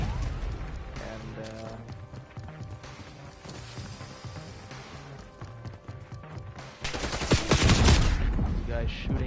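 Video game gunfire with bursts of machine-gun and rifle shots under ongoing talk, rising to a loud, dense volley of rapid shots and crashes near the end.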